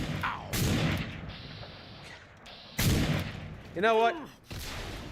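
Heavy gunshots and a booming explosion in Fallout New Vegas, several loud sharp blasts with decaying rumble, interspersed with game sound effects and someone talking.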